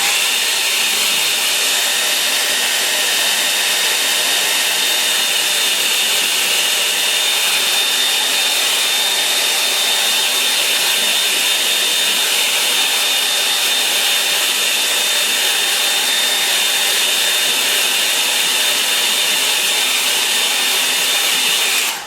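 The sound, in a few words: hair dryer drying watercolour paint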